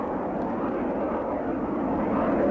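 F-117A Nighthawk stealth jet aircraft flying, a steady broad engine roar that holds evenly throughout with no talk.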